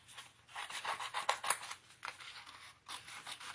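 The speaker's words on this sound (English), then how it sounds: "what I do is I just cut around, leaving the sticker part and just giving a little bit of that background green" Scissors snip around pumpkin stickers, leaving a thin green paper border, in a quiet, close series of quick cuts and rasps with short pauses between them.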